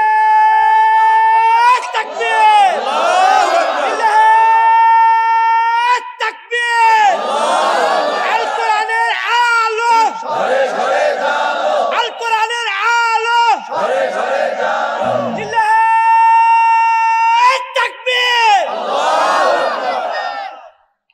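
A large crowd at a two-day Islamic mahfil gathering chants takbir loudly and in unison, in several strong, drawn-out bursts separated by short pauses.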